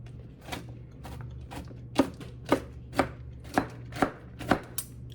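A knife chops walnuts just out of the freezer on a board, giving about eight sharp, evenly spaced thuds over a low steady hum, close and fairly clear.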